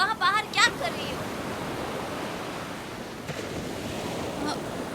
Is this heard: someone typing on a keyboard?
no